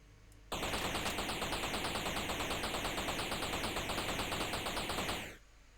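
Rapid, rhythmic bursts of spaceship guns firing in a space video game near an asteroid, a loud continuous volley of about five seconds with no talk over it, stopping abruptly.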